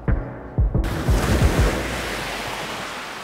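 Ocean surf breaking at a beach, a loud steady wash of waves with wind buffeting the microphone, a few thumping gusts early on, no voices.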